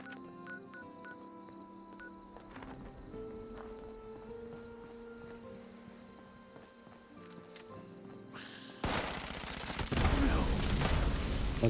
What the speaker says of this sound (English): My best piece of shooting that, really.